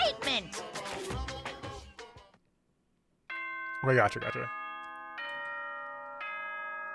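A multi-note doorbell-style chime jingle rings out in the video game Danganronpa: Trigger Happy Havoc, clear and sustained after a brief silence, following a voice speaking just before it.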